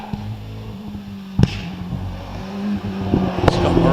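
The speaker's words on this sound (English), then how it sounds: "Away from the start line, Wallace Mingies in the Gould GR59 with the Cosworth XD engine" Gould GR59 hillclimb car with a 3.3-litre Cosworth XD engine pulling away from the start line at a British Championship hillclimb, Harewood: a steady low engine drone with sharp loud bursts, building toward the end.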